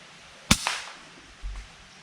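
An air rifle fires a single sharp crack at a grey squirrel at a feeder in the woods. A quieter echo follows quickly, then a dull thud of impact, all in an otherwise quiet setting.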